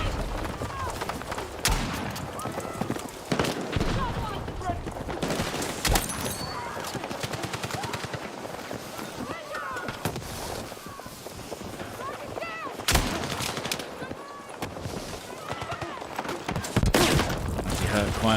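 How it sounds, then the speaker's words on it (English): Loud gunfire crackles through a Battlefield 6 match, mixing rapid automatic bursts, sharp single shots and explosions at varying distances, with a player speaking over the chaos. "Dude, I'm being shot by my own team."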